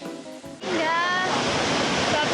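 Rushing water at Antrokan waterfall in the Hyang mountain area, a loud, steady broadband roar that swells in after a quieter opening moment and holds throughout.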